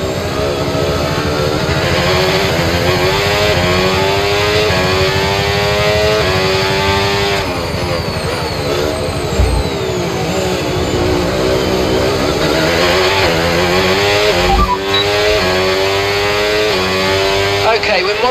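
A Formula 1 car engine in the F1 25 racing game at Sakhir screams loudly and continuously, rising and falling through gear shifts and revs as the car laps, close and dominant throughout.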